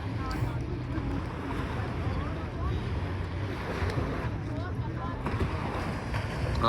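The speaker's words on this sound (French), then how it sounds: "Bruit de l'eau." Water sloshing and lapping around a boat, with steady broadband wash and some wind buffeting across the whole stretch, at a moderate, continuous level.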